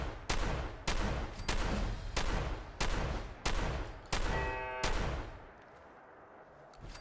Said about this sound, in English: But I've got an explosive shotgun